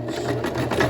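A sewing machine runs a short, steady backstitch along a Kalle shirt seam, giving a close, continuous mechanical whir with no talking.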